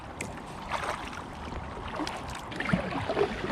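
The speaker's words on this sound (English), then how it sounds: "we're going to paddle upriver for a bit, up canal I should say really" Kayak paddling up a canal near Selby town centre on an Aqua Marina Cascade, with steady close water swishes and light splashes over a breezy wind-noise background.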